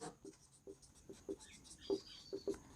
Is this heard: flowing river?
no